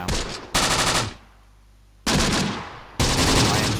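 Machine guns rattle in Close Combat: The Bloody First, a World War II game, in three loud sustained bursts separated by short lulls, the second gap longer than the first.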